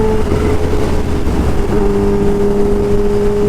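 A Kawasaki Ninja H2 motorcycle engine droning loud and close under steady throttle, a sustained humming tone that steps up in pitch partway through as revs climb, with no voices.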